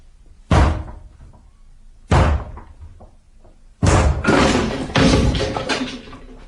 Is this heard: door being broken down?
yes